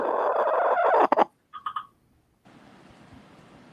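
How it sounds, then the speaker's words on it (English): A pet chicken gives a short burst of clucks, three or four quick nasal calls close by, after a loud noisy stretch and before a quiet hiss. "Is that your chicken?"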